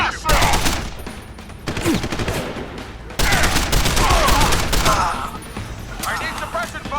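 Loud, rapid gunfire in Deus Ex Human Revolution, dense automatic bursts and overlapping shots hammering close by almost without pause, with brief voices shouting through the barrage.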